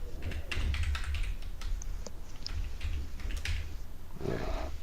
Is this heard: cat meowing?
no